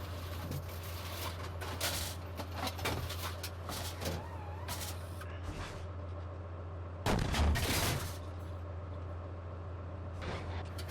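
Gunfire in the Steel Beasts Pro tank simulator, scattered sharp cracks over a constant low engine drone, with a dense loud burst of shots near the end.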